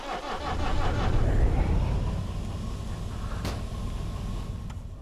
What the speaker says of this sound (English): You can hear the train pressuring up.